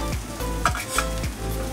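Sugar and raw mango are stirred in a pan, giving a steady sizzle with a few soft scraping strokes in a slow rhythm, close and clear.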